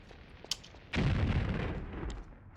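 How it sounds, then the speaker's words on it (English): An explosion sound effect plays on opening the inventory in a Tomb Raider III beta video game: a brief click, then a sudden loud booming blast that rumbles and slowly fades. "getting in the inventory plays the wrong sound as well. It just plays an explosion."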